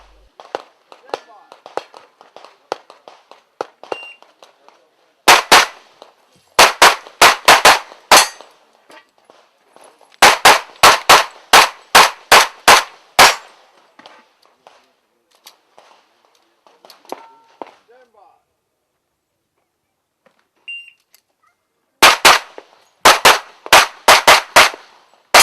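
IPSC World Shoot competition shooters fire in several fast strings of sharp, loud gunshots in clustered bursts, with quiet pauses and background voices between runs.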